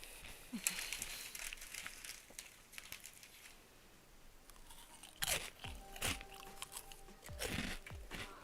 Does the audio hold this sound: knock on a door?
no